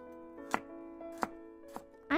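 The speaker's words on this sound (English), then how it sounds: "Just ready for some real good chopping sounds." A knife chops carrots on a board in three sharp, evenly spaced thuds over a sustained tonal background hum, ending with a brief louder rustling burst.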